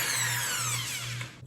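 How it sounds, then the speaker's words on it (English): Stand mixer creaming butter, sugar and one egg, a steady whirring motor drone with a bright high whine, continuous and close, cutting off at the end. "And then just cream that with the stand-in mixer"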